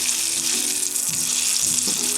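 Food sizzling steadily in melted butter and olive oil in a hot pan, a loud continuous frying hiss with no talk.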